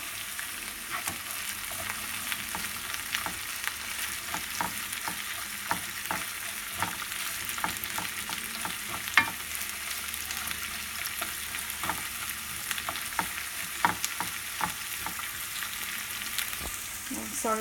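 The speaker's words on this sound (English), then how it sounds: "onions are cooking." Onions frying in a pan for a traditional Lithuanian Christmas Eve dinner, a soft continuous sizzle broken by frequent sharp clicks and scrapes of stirring, with no voices.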